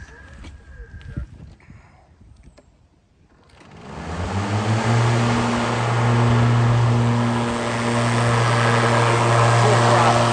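A 2018 Ryobi electric lawnmower converted to lithium power runs with its blades spinning. After a few quieter seconds it rises into a loud, steady whirring drone that holds close and constant to the end.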